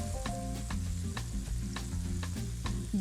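Green onions sizzle in a hot pan alongside shrimp for keto shrimp tacos, a steady loud frying hiss with a few sharp clicks of stirring, no talk.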